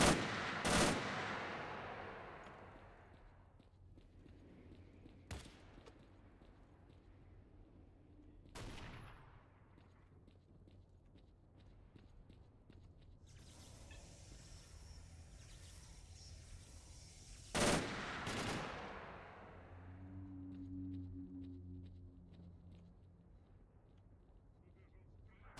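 Scattered gunfire from the video game New Arsenal, a few loud single shots and a louder burst mixed with distant crackling fire and engine-like rumble, with someone talking intermittently between the shots.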